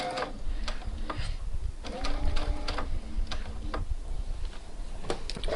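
A sewing machine stitches a seam for a New Look 6575 pattern with quick mechanical ticking and whirring runs, pausing briefly between bursts, close and clear.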